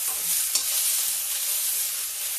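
Potatoes and peas fry with garlic and ginger in hot oil, a bright steady sizzle with a soft stir near the start, fairly close and alone without speech.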